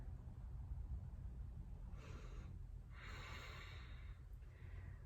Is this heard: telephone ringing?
no